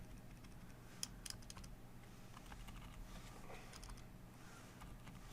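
Faint keystrokes tap on an unfamiliar computer keyboard, a few sparse clicks over a steady hum of background noise, quiet and close, with no speech.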